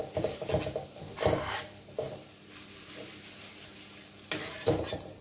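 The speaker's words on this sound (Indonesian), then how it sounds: "jadi ini diaduk terus sampai dapat konsistensi seperti selai ya" Coconut filling stirred in a pan until jam-like, with a spoon scraping and stirring in bursts over a soft sizzle and occasional utensil taps against the pan.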